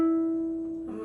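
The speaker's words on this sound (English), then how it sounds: "the next sound you hear is the sound of me keeping this finger pressed and sliding it up" A single plucked ukulele note rings steadily and then slides up two frets under a finger kept pressed, with a faint shift in pitch near the end, close and quiet, with no voices.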